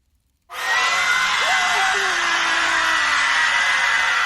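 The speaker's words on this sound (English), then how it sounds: "It says old Greg screams" A crowd of voices in the game Fable 2 erupts abruptly after a brief silence into a loud, sustained roar of shouting and cheering, with a rising yell-like wail rising out of the din.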